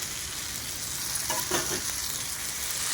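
Fried ivy gourd being stirred into tomato frying in a pan, a steady close sizzle throughout with a couple of brief soft stirring scrapes partway through.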